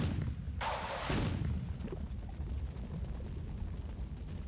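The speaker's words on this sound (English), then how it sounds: "I can freaking chip away at you with rockets this entire time" Rocket explosions in a video game, a loud roaring blast that bursts out and then fades into a low rumbling background.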